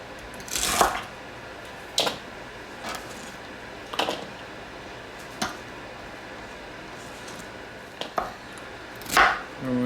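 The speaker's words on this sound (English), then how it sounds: "And we're just gonna chop these up really, really nicely." A knife chopping vegetables for chicken noodle soup on a cutting board, with about eight sharp, separate knocks spaced a second or two apart, close and clear over a quiet room, with no talking.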